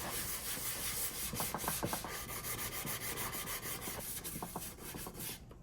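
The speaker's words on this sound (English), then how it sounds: "I've decided to sand it, thinking that maybe it's just too glossy for anything to stick" Steady sandpaper rubbing on a glossy coated vintage jewelry box, a continuous close scratchy hiss with short stroke bursts, no voices.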